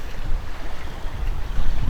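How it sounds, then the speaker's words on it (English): Sails flapping loosely on a slow-moving sailboat near an anchorage off Fuerteventura, a continuous low rumbling flutter mixed with wind and water noise, fairly loud and close, with no voices. "He's even letting the sails flap along, which is not normal."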